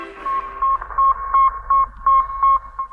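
The Sputnik satellite's radio signal beeping from orbit: an even, repeating train of short steady tones, about three per second, clean and alone over a faint low hum.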